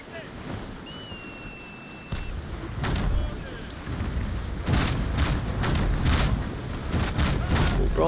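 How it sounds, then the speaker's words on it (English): Ship cannon broadside in the naval combat game Naval Action, a series of heavy booming shots with sharp bursts firing in quick succession over steady wind and ocean rumble. "Broadside, fire."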